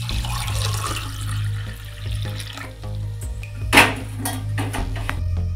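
Warm water is poured in a steady splashing stream close by over a low hum, with a brief clink partway through.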